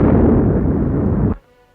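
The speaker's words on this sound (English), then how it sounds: "Torpedoes from a British cruiser made the final kill as the Bismarck went down under blistering fire." Naval gunfire and explosions as the Bismarck sinks, a loud sustained roaring blast that cuts off abruptly into near silence.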